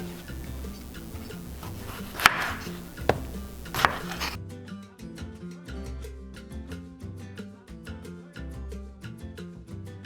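A food processor pulses cherry and heirloom tomatoes for salsa, with a few sharp clacks of the lid and blade housing followed by a steady run of rapid ticking chops over a low motor rumble.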